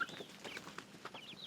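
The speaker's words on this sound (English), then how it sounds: "we're going to let the chickens out" Chickens on a homestead give soft, scattered clucks and brief chirps, faint and close by, with no talk over them.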